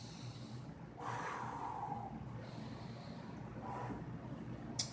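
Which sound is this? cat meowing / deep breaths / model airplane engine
deep breaths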